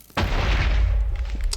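Explosive fruit shot striking the ground in Minecraft with the Project Fruit Mod, a single sudden loud boom with a deep rumbling tail, followed by a few faint crackles.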